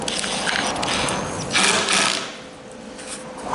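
A short washer-head screw is driven snug into a trailer tailgate, a steady whirring, ratcheting drive that runs continuously, close and moderately loud.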